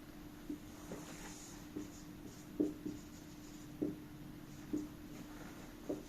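A pen scratches across paper drawing a sinusoidal voltage graph, with soft, faint strokes and about six small taps spaced about a second apart over a quiet room hum.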